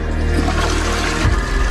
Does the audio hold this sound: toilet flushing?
yes